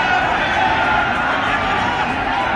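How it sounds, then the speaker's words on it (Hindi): Large crowd at Priyanka Gandhi's road show in Saharanpur raising supporters' slogans, a dense continuous roar of many voices throughout, loud and steady with no single voice standing out. "प्रियंका के रोड शो में उनके समर्थन में जमकर नारेबाजी भी हुई।"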